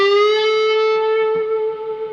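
Distorted electric guitar in a blues style, one note bent up a whole step to A at the 14th fret, then held with long, bright, reverberant sustain that slowly fades, played alone.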